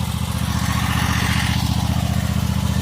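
Bad Boy lawn mower with hydrostatic drives running steadily on fescue, a loud, close, continuous engine drone with a low pulsing throb and light clatter, no talking.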